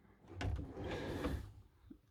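A sliding door in a Carthago Chic C Line motorhome rolls along its track, giving a soft, close scrape and rumble that lasts about a second and ends in a light bump.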